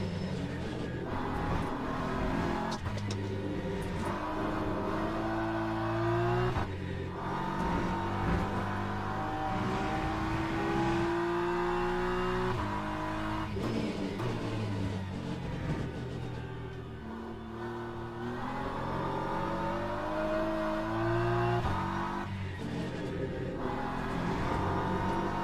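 Race car engine in a racing video game, revving and shifting through gears on a practice lap, with repeated rising and falling engine whines over about 25 seconds.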